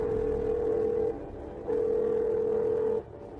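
A telephone sounding for an incoming call: two long, steady electronic tones separated by a brief pause, fairly quiet over a faint background hum.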